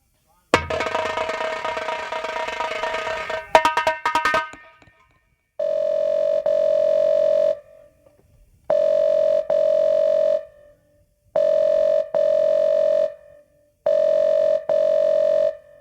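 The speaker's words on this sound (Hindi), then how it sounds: "वही पुराना नंबर है, जल्दी से डायल कर।" An old landline telephone dials out: a burst of tone and clicks, then a steady dial tone sounding in four or five evenly spaced pulses with short gaps between, loud and close.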